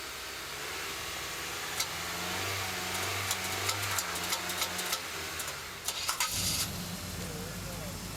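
A truck engine with a fried electrical fault cranks and tries to start, a steady mid-pitched engine drone with ticking clicks, then a sharper burst of cranking noise before the tone shifts; voices are heard nearby.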